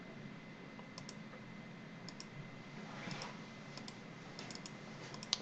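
Sharp key clicks on a computer keyboard as Ctrl+Enter is pressed, a few scattered quiet taps in small clusters over a low steady background hum.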